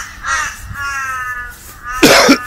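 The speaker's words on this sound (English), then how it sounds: "A lot of crows in this park, isn't there?" Crows in a park caw a few times, the calls fairly close and harsh, with a louder burst near the end and no talking over them.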